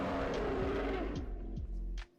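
A Tarbosaurus call in the game Dinosaur Simulator: a loud, sustained low roar with harsh rasping texture and a few sliding tonal sweeps, running steadily for about two seconds before cutting off.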